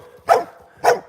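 A dog outdoors, a Rottweiler or pit bull, gives two loud, sharp barks about half a second apart, each standing out against near silence.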